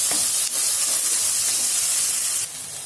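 Chopped tomatoes and green chillies sizzle steadily in a hot pan for egg bhurji, a dense close hiss with a soft stirring scrape, quieting slightly near the end.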